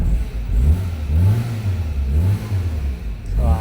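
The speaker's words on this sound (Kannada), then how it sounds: "ಸ್ಟಾರ್ಟ್ ಮಾಡಿ ಗಾಡಿ. ಸ್ಟಾರ್ಟ್ ಆಗೋಯ್ತು." A vehicle that has been parked in the sun for about fifteen days starts and revs, its engine rising and falling in pitch with steady low rumbling throughout, close by.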